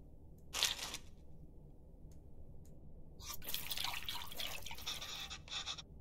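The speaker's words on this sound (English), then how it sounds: "Looks like I have to mix tamarind with the water to extract the essence multiple times." Tamarind water strained through a sieve in the cooking game Venba: one quick splash, then a longer stretch of trickling, pouring liquid with small drips, fairly soft and close.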